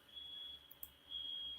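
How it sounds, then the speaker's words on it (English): A fire alarm beeps with a steady high-pitched electronic tone that pauses briefly and resumes, fairly faint and indoors, over a low background hum. "I do apologize for the fire alarm."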